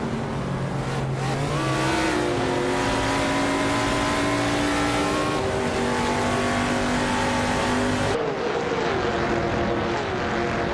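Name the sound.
race cars speeding in a racing video game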